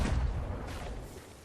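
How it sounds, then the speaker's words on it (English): A single heavy ship cannon blast in the pirate video game Sea of Thieves booms at the start and then rolls off into a long fading rumble, with no voices. "Let them taste the triple guns."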